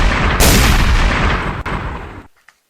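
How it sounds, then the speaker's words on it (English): Two shotguns fire both barrels at once, a single huge, sustained blast that rolls on for about two seconds before cutting off into silence. "Phibes emptied both barrels of both guns straight into the prone head of the robber"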